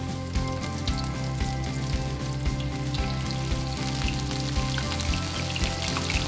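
Calamari rings deep-frying in hot oil, a dense continuous bubbling sizzle with scattered crackles and pops, close and steady, no one talking.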